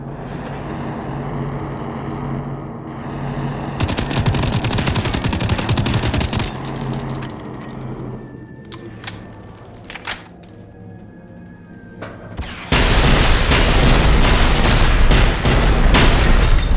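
Bursts of gunfire in Generation Zero, with rapid automatic fire and sharp single reports, dense and loud over a busy game soundscape, ending in a sustained loud barrage.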